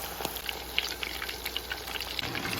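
Meatballs frying in oil, crackling and popping in dense irregular spits close by, with a constant hum from a kitchen fan underneath and no voices.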